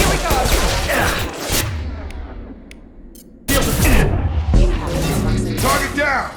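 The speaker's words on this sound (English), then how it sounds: "Shotgun!" Shotgun blasts and a loud crash in Mass Effect Legendary Edition combat, heavy booming bursts with a gap of quieter rumble between, under shouted in-game dialogue.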